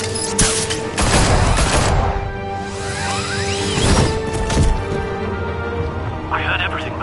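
Gunfire bursts from Telltale's Batman video game, a busy spread of sharp cracks and crashes over about seven seconds, loud and dense, mixed with whooshes and game action.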